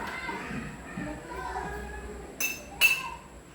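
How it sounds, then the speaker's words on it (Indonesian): A glass bottle tapped twice with a spoon in a children's classroom experiment, two bright ringing clinks near the end over faint room noise and background chatter. "Coba Putri memukul botol kembali"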